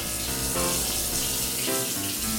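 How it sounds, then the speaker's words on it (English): Tap water runs steadily into a kitchen sink as pot water is drained and cooked macaroni noodles are rinsed, a continuous close splashing gush with no talking. "I poured out the water, rinsed off the noodles to cool them down just a bit"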